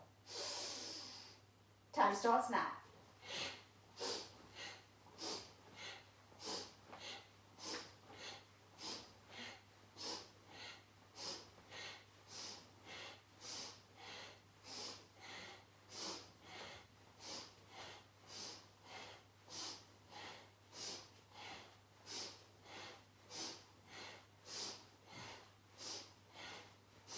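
Rapid Kundalini yoga breath of fire: a long run of quick, evenly spaced forceful sniffs and exhalations, about two per second for over twenty seconds, close and steady, after a brief spoken cue at the start.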